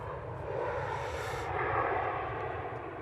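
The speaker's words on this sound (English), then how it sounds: "just turning on to finals now, we have the Loganair Embraer" A Loganair Embraer airliner on final approach to Manchester Airport, its engine roar a steady, broad rumble heard from the ground, holding level throughout without a break.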